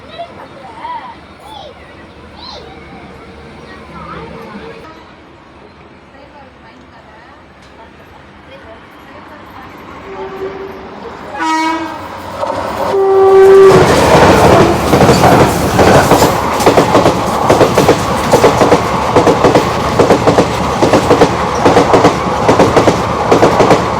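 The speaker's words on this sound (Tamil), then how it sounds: "ஆப்போசிட்டில் வந்து பார்த்தா திருச்சிலேருந்து பாலக்காடு போகிற வண்டி தான் வரும்" A passenger train running from Trichy to Palakkad passes a crossing, starting with quiet waiting and faint voices, then a horn blast and a loud, close rush of wheels with steady clickety-clack rhythm.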